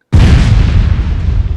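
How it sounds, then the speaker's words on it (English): A fiery explosion erupts suddenly after a moment of silence, a loud, deep, full-bodied boom that rumbles on and slowly decays. "fiery explosion"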